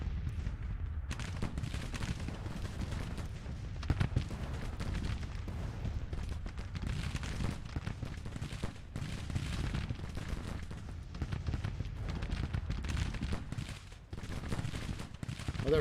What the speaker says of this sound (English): they're firing their artillery on the skirmishers